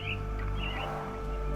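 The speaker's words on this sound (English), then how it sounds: "Minor birds, if I'm not mistaken. Beautiful creatures. Sad that they're caged here." Caged mynah birds in the Sherlock Holmes video game give short chirps over a steady low hum. They are faint and fairly distant, and a few brief calls stand out near the start and middle.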